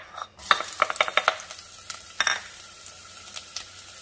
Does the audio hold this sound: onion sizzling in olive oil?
yes